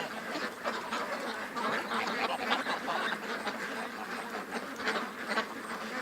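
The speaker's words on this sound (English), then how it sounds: "Oh, the little Muscovies are coming down. They're becoming part of the flock now." A flock of Muscovy ducks, including young ones joining in, quacking in a dense, overlapping chorus that stays loud and constant throughout, close by with no talk.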